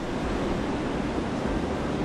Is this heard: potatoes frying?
no